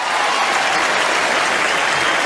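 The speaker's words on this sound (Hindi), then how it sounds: "जोरदार तालियां पाजी के लिए होनी चाहिए।" A studio audience at a comedy show claps loudly and continuously, a dense wall of applause filling the whole moment without any break.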